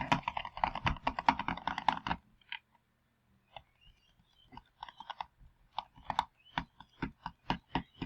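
Fast mouse clicking while playing the Roblox game Munching Masters comes as a dense two-second burst of sharp clicks. After a short pause, irregular single clicks return and speed up into a steady rhythm.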